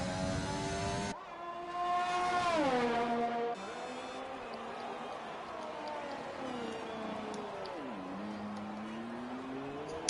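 F2 single-seater race car on the Canada circuit at full throttle, its high-pitched engine screaming through rising gears and dropping on downshifts into a hairpin, then climbing again on the back straight; loud, continuous, no talk.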